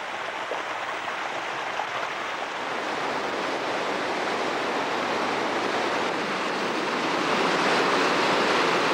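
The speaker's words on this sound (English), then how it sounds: "This is a classic piece of underground stream passage." An underground stream rushes through a limestone cave passage in Poole's Cavern, a dense, continuous roar of flowing water that holds steady and swells slightly louder toward the end, with no voices.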